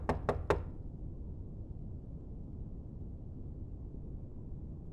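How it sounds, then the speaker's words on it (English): Three quick sharp knocks on a door as a sound effect in a live-play tabletop game show, followed by a low steady room hum with no talking. "you hear a knock at the door"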